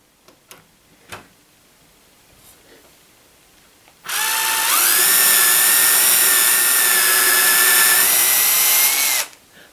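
A power drill bores through part of a dog stop fence, starting abruptly after a few faint clicks and running loud and steady for about five seconds, its pitch dipping briefly under load before stopping.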